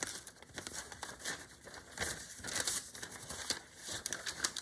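Paper or fabric being pinched, held and creased into a fold for a 3/4 inch seam allowance, giving soft close crinkling and rustling with small crisp taps, steady and alone with no talk.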